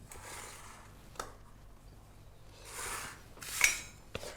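A palette knife smooths Victoria sponge cake batter in a baking tin, giving soft scraping strokes with a few light metallic clinks against the tin, close and quiet.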